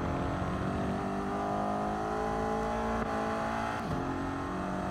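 A race car engine in a racing video game accelerates out of a corner, a sustained rising drone with steady harmonic pitch climbing and a brief shift near the end, continuous and moderately loud.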